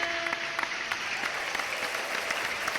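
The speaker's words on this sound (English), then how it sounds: "Keep the applause going." An audience claps steadily on a podcast radio show, a continuous patter of applause at moderate volume with a few sharper individual claps standing out, no talking over it.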